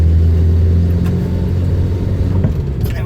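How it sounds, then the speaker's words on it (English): A Renault 10 engine revs up through a clutch-dipped gear change, producing a steady, loud, close rumble with a brief rise in revs. "So we drop gear by dipping the clutch down, giving it a little bit of a rev up, and then push it into gear"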